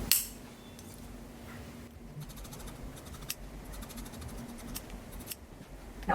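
Sewing scissors snip through fabric to cut out strap pieces for a flutter top, a series of close, crisp cuts and blade clicks in irregular rhythm, with no talk.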